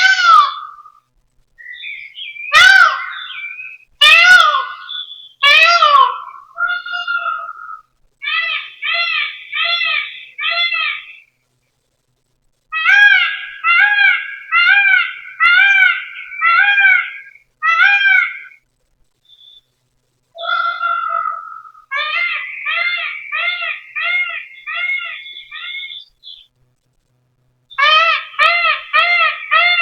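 Through monitor speakers, different birds call one after another: sharp whistled cries, then long trains of evenly spaced chirping notes. Every sound is crisp and prominent, with gaps between the phrases and no speech.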